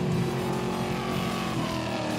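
Classic Alfa Romeo racing cars, including a Giulia Sprint, race on a circuit with a loud, continuous engine roar and droning tone throughout, close by, with no talking.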